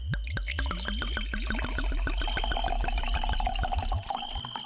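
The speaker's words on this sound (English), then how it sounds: "He pours a dry white wine into a tumbler." Dry white wine is poured into a large tumbler, a close, steady glugging stream whose pitch rises rapidly as the glass fills, ending with a few final trickles.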